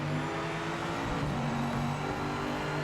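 A GT3 race car engine in the Project Motor Racing video game drones at steady revs, a continuous, even-pitched roar without breaks.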